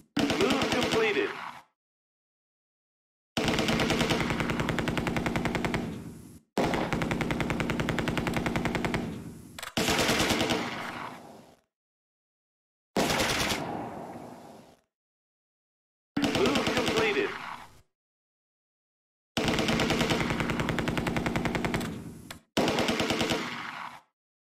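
Machine gun fire in the war strategy game Close Combat 2 comes in repeated loud sustained bursts of rapid shots, each lasting a second or two and separated by short silences.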